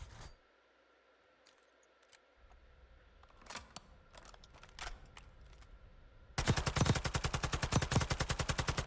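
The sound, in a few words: gunfire from a machine gun in the video game Call of Duty: Warzone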